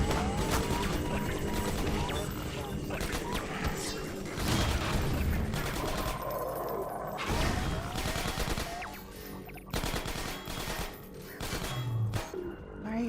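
Rapid gunfire in the video game Half-Life, dense bursts of shots and mechanical clatter over several seconds with a few brief pauses, loud and close, with a voice talking over parts of it.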